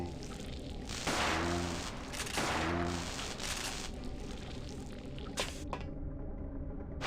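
A shotgun fires in Parasite Eve 2, with two heavy booming blasts about a second and a half apart, then further scattered game impacts before the sound cuts off near the end.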